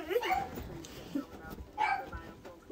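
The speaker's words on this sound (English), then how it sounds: "There's something going on outside, and so the dogs are freaking out." Dogs bark and yelp in agitation at a disturbance outside, the sound faint and scattered in several bursts, heard beneath people talking indoors.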